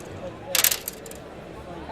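Dice rolled in The Thing: Infection at Outpost 31 board game: a brief, bright clatter of dice tumbling on a hard surface, lasting under half a second against quiet room noise.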